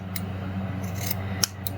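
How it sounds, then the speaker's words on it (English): Large scissors snip through fabric for a bass fish pillow, a few quick crisp cuts up close, with a soft sliding rasp of blades over a low steady hum. "I got a bigger pair of scissors so I could do this."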